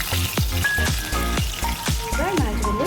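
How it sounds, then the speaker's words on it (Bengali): Morola fish fries in hot oil with crackling sizzle and repeated sharp pops and spits, close and lively, as a voice speaks over it. "এবার মাছটা ভাজা হয়ে গেছে, আরেকটা সাইড ভেজে নিচ্ছি।"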